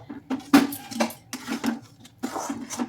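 Rice flour being stirred into hot salted water in a pot on a low gas flame, heard as soft, irregular scraping and clinking of a utensil against the pot, quiet and close.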